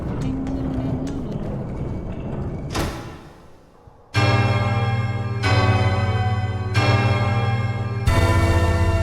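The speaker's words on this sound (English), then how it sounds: "Ding dong. Ding ding dong." Bell tolls ring out in Hollow Knight: Silksong, four deep resonant strikes spaced about two seconds apart, each loud and sustained with rich ringing overtones after a quieter stretch of ambient game sound.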